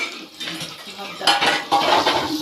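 Garlic in a little oil gets stirred in a pan, utensil clinks and scrapes against the metal over a light sizzle, up close, growing busier toward the end.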